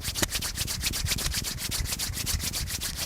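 Two hands rubbing briskly together, a fast, even series of dry swishing strokes, close and steady for a few seconds, with no talking.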